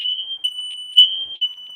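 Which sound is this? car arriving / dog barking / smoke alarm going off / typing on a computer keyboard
smoke alarm going off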